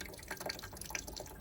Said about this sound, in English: I'll wait for this flow of water to stop